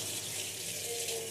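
Tap water running steadily into a sink during washing up, a continuous close hiss and splash with no pauses.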